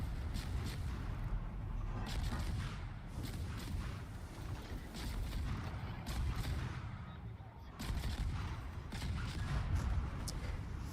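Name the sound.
naval gunfire from American ship guns in World of Warships video game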